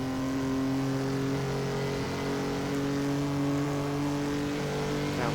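A straight-six race car engine pulls steadily through a corner, a continuous close-up drone with strong, smooth harmonics and a slight rise in pitch near the end.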